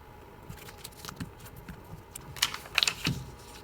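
Origami paper folded in half edge to edge while making an iso-area flasher: soft, scattered paper taps and crinkles, building to a brief burst of crisp, close rustling near the end, with no talking.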